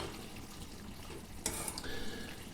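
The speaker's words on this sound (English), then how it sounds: "Now you mix it very well with the sauce." Drained spaghetti is tossed and mixed into puttanesca sauce in a pan, giving soft wet squelching and stirring sounds with a brief clink partway through, quiet and close with no talking.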